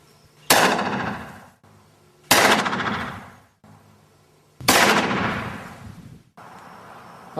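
Three loud gunshots are fired at a target roughly 80 to 100 feet away. The sharp bangs are spaced about two seconds apart, and each leaves a long, booming echo that fades out.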